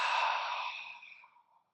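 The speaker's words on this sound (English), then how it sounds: "Big breath in through the nose. Fill up at the top of the breath, pause." A single open-mouth exhale during a breathing exercise, a soft breathy whoosh that starts fairly strong and tapers gradually to silence over under two seconds, close and alone.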